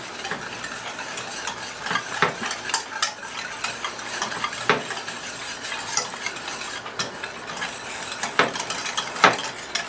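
Carolina Gold mustard barbecue sauce is mixed in a bowl with a utensil, giving steady wet scraping and sloshing with repeated clinks against the container, continuous and close, with no voices.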